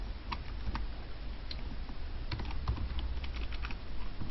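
Computer keyboard keys clatter in quick, irregular bursts of clicks, close and moderately quiet over a low room hum, with no speech.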